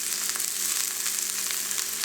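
Diced onions sear in a hot pan for a quick gyro, giving a loud, steady, close sizzle with no pauses and no one talking.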